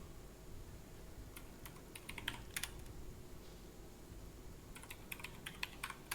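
Someone types on a computer keyboard in a few scattered bursts of crisp key clicks over a steady low hum, close but quiet, with no voices.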